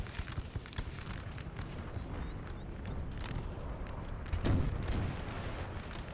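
Artillery fire in the Napoleonic battle game Total War, 4v4 clan match: a dense rumble of distant cannon booms and crackling gunfire, with one heavier blast standing out near the end.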